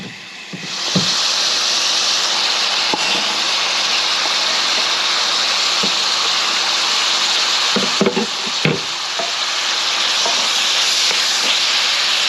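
Bacon sizzling in a pan, a steady close hiss of frying fat with a few faint knocks and clatters over it, and no talk.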